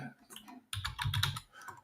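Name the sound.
typing on a computer keyboard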